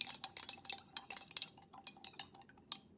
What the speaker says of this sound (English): Then we're going to stir it, make sure it's all nice and mixed.